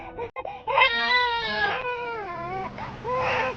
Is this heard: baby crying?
yes